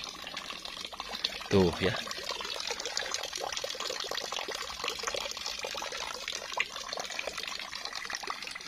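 Clear spring water runs and splashes steadily at a natural mountain spring near a village, a continuous bright wash of flowing water with people talking briefly over it.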